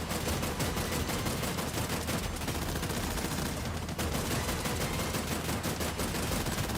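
Rapid pistol fire from the 2D action game Terminator 2D: No Fate rattles continuously under dense game noise, loud and without pause.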